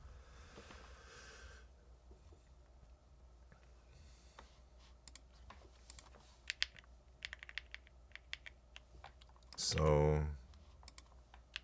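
Quiet, quick clicking of a computer keyboard during a type racing championship race, scattered keystrokes ticking faintly in a quiet room, with a brief spoken word and a louder burst near the end.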